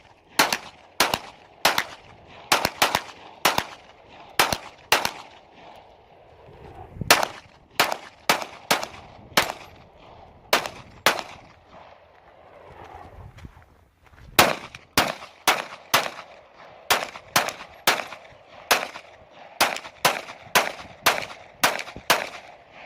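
A Glock pistol fires through a 30-round ETS magazine outdoors, loud sharp reports in irregular bursts and single shots with short pauses, steady and close, no talking during the string.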